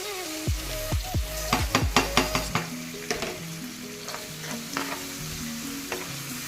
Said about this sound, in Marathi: हे सगळं मिश्रण एकजीव करून घ्यायचं आहे परतवून चांगलं आता यामध्ये आपला पास्ता घालायचा